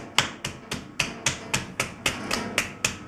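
Wet clay is slapped by hand onto a potter's wheel in about eleven sharp, evenly spaced smacks, close and crisp, with a steady rhythm and no talking.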